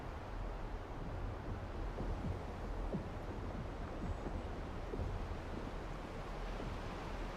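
A waterfall in the LEGO Fortnite video game pours down as a continuous broadband rushing wash, steady and fairly loud throughout with no talk.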